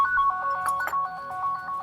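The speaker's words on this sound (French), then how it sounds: "Oh, le téléphone." A phone ringtone chirps in a quick repeating electronic pattern, fairly quiet and alone, during a tabletop role-playing game session.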